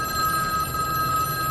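A telephone ringing in The Matrix film, a steady electronic bell tone ringing continuously and fairly loud, with no voices.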